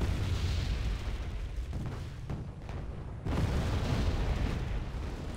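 Heavy artillery barrages in Wargame: Red Dragon during a city battle, a dense, continuous rumble of overlapping explosions and booms that briefly thins out before swelling again.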